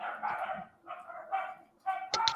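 Several pet dogs bark in the background in uneven bursts, with short gaps between volleys and a sharper, louder cluster of barks at the end; no one speaks.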